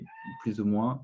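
A pet cat gives a drawn-out meow up close, rising and then falling, with a voice talking briefly over the start.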